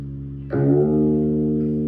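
A single chord strummed on an electric guitar in E flat tuning, a half step down, rings out and sustains evenly, close and clear, with nothing else heard.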